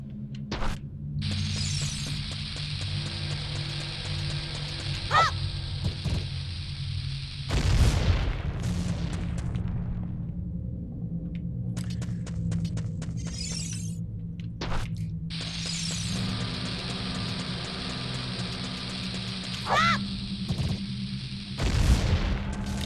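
A bomb blows open a bombable wall in Zelda: Ocarina of Time, a deep booming blast heard twice amid game music and chimes, each burst loud and short.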